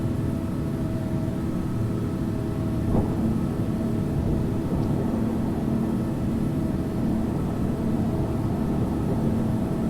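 Airplane taking off on runway 25 right in Infinite Flight at Brussels, a steady broadband engine roar held at constant loudness throughout, with a faint click near the start.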